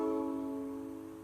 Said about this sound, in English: the blue string is a C sharp and it sounds like this.